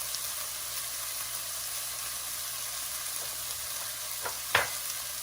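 Chopped garlic sizzling with onions in a hot pan for aloo palak, a steady close frying hiss throughout with a brief sharp clatter of stirring near the end.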